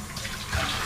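Tap water runs into a container being rinsed out while brewing homemade kombucha, a brief close splashing gush that swells slightly toward the end.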